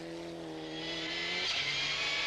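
A rally car driven by Mäkinen at Rally Sweden 1997 roars past the flying finish line of a stage, its engine note climbing and rising in loudness as it closes in, then turning into a broad rushing noise as it passes nearby.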